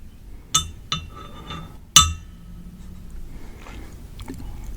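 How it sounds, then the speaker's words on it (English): Ice clinks against a drinking glass in a few sharp, bright taps close by, then settles into quiet faint rattling and shifting. "The ice in his drink, however, clinked audibly."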